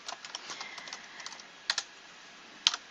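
Someone types a short entry into a note in mind-mapping software on a computer keyboard, with light, irregular key clicks that end in a couple of louder, sharper taps, heard close over a faint hiss.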